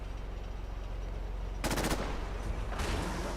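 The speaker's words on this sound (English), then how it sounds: "Is that a gunner shooting his own turret?" A gunner firing at a turret in the video game Fallout 4: steady background game noise broken by two short, loud bursts of rapid automatic fire, the second one fainter.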